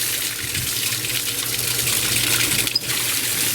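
Water runs steadily from a faucet into an old, long-unused sink in a basement, a continuous broadband hiss with a brief splash or clunk near the end.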